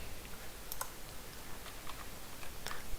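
Several light, sparse clicks of keys being tapped on a computer keyboard as a command is typed into a terminal window on a Mac, quiet and close over a faint background hiss.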